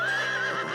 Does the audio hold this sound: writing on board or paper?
no